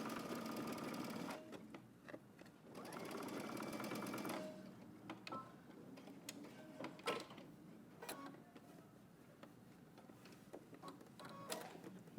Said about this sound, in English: Now stitching only on your lining, about 1/8 of an inch away from your seam line, we're gonna understitch